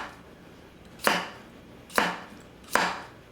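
A Masakage Mizu 210mm gyuto knife chops through butternut squash on a cutting board, three sharp knocks spaced about a second apart, close and crisp with no talk.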